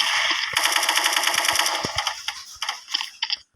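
Rapid automatic AK rifle fire in a shooting video game, a dense rattling burst of shots that thins into scattered single cracks toward the end, loud and up close with no talking over it.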